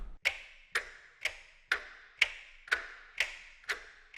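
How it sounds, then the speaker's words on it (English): A taiko drum patch from an 8Dio sample library plays a steady, evenly spaced series of eight sharp wooden knocks, each with a short decaying ring, closely resembling the tick of a big old clock. "I made the taiko sound pretty much like your grandmother's big old clock."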